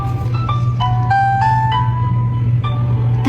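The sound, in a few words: baby tummy-time toy playing its sounds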